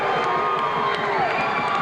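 A crowd in a 1994 high school basketball gym, Salem at Lynn Classical, cheers and shouts steadily after a made three-pointer, a dense sustained roar with scattered whistles and high-pitched yells.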